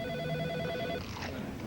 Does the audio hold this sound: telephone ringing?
yes